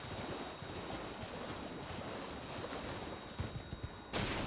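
Water and waves wash around the area in Elden Ring, a steady broad rush of surf and wind that stays loud throughout, with a few louder splashes near the end.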